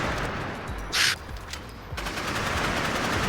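Rocket machine gun firing in the Nimrods video game, a dense rapid burst of shots with a brief bright hiss partway through, then continued fire, loud and close with no talk.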